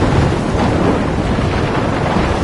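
A storm roars in the video game Life is Strange, with steady, loud wind and rumbling thunder forming a dense, unbroken wash of noise.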